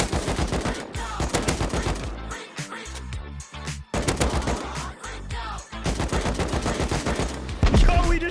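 Gunfire rings out during a Rust base raid, with rapid bursts and single loud shots over several seconds, close and sharp, mixed with a thumping music track and other game noise.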